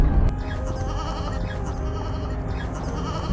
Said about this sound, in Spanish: no sé qué serán, parecen ovejas